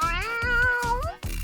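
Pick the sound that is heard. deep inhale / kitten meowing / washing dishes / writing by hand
kitten meowing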